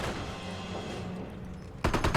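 Machine gun fire in a real-time strategy video game: a short burst of rapid, loud shots at the end, after a steady wash of battlefield noise.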